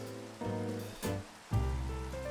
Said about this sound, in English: It's the rain.